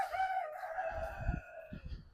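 A rooster crows near a small chicken coop on rural farmland, one long drawn-out call close by and loud, with faint rustling underneath.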